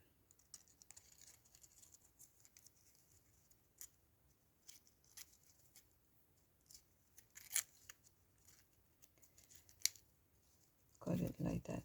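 Scissors snip through a thin 1/4 inch paper strip for a Stampin' Up candy dispenser craft, giving quiet, scattered clicks and crisp cuts that end in a louder flurry of snipping.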